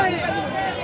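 Dense crowd chatter fills a busy wholesale vegetable market in Bhojpur on a Holi special market day, with many overlapping voices forming a steady, close babble throughout.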